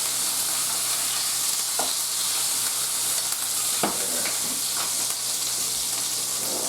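Chicken and vegetables sear in an oven-safe pan with a constant sizzling hiss, broken by a few soft scrapes and taps of stirring.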